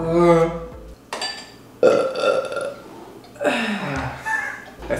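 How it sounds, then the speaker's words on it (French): Several loud, drawn-out burps follow one another at close range, each a deep, croaking belch separated by short pauses. "je passe ma vie à roter dans les vidéos"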